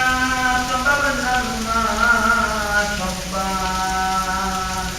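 Steady rain falls in a dense, even hiss, with a droning, tonal voice-like sound running over it throughout.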